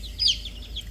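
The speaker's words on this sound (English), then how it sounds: "don't step on the chicken" A single short chicken cluck on a rainy homestead, faint and brief over a low steady background rumble.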